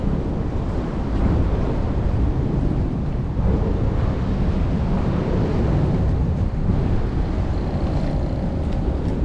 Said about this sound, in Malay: Angin dah tiup jalan.